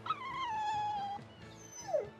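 Dog whimpering in the video game Tales of Berseria, a long descending whine followed by a shorter high yelp, close and clear with no voices over it.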